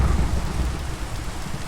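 Steady heavy rain pours throughout a Minecraft thunderstorm, with low rumbling thunder rolling underneath at a constant, loud level and no voices.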